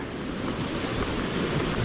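River water flowing clear and strong near fishing rocks makes a steady broadband rush, loud and close, constant throughout with faint wind buffeting and no voices.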